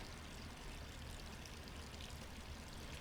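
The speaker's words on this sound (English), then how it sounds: "Why would you leave the water running?" Tap left running in the video game Resident Evil 3, a steady, even rush of pouring water that holds at a low level throughout, no voices.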